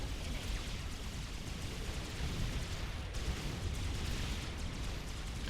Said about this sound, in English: we need to turn on our handy dandy missile launcher so that we can actually